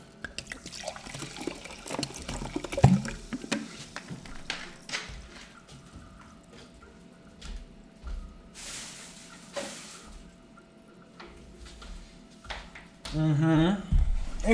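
Sparkling water is poured in a video game, giving a wet splashing, fizzing burst near the end that follows some quieter shuffling and clicks, and no one speaks over it.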